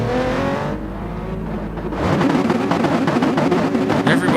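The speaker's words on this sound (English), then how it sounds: "Everybody revving high." Race car engines in a GT racing video game rev hard together on the grid, a dense snarling roar that swells abruptly and stays loud as the pack launches from the start.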